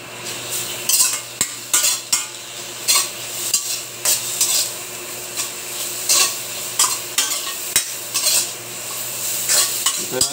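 Ingredients for Filipino laing, taro leaves and stems, sizzle in a pan as they render their own oil, with repeated metal scrapes and stirring strokes over a steady hiss and no talking.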